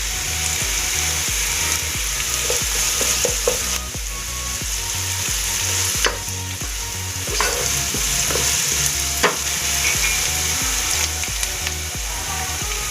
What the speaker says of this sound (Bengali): আমার পেঁয়াজটা আর আদাটা হালকা ফ্রাই হয়ে এসেছে।